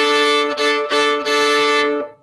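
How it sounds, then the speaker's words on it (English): A bowed double stop on the D and A strings of a string instrument, played in a beginner strings class: a sustained two-note chord in three even bow strokes with brief breaks between them, close and clear with no talking. "it's when you put your bow on 2 strings at the same time"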